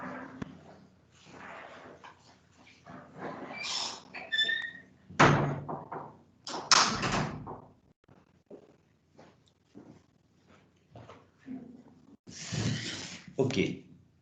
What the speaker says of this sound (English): So I'll just close the door